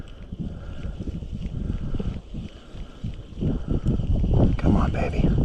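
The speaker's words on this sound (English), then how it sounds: "The wind is so strong right now." Strong wind on a small lake during a trout fishing trip, gusty low rumbling against the microphone that builds in the second half, with boat and water sounds and a voice talking over it.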